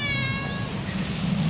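Several cats meow at a snowy winter campsite, a clear drawn-out high-pitched cry fading over a second and a half, close and loud with no talking.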